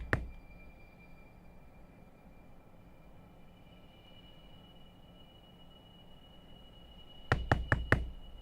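Someone knocks on a door: a single sharp rap at the start, then after a long quiet stretch over faint steady background hum, a quick close burst of four loud knocks.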